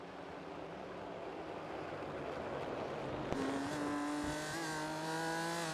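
Tortuga race cars in an iRacing Geodesic Omologato Championship round at Sebring drone past bumper to bumper, engines humming steadily and then rising into a louder whine as one closes in.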